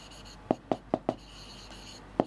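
Pen strokes on paper during a maths lesson, five short distinct scratches, four in quick succession then one after a pause, close and fairly clear with no talk.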